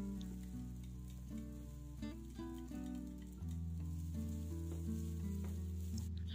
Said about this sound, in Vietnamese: Và cho hết phần sả, ớt và tỏi băm vào để mình phi cho thơm lên.